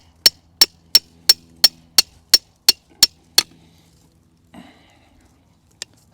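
A blade or chisel is struck repeatedly to cut a cleft into a flat-sawn rootstock for grafting: ten sharp, evenly spaced taps in quick succession, close and crisp, followed by a soft shuffle and one last tap.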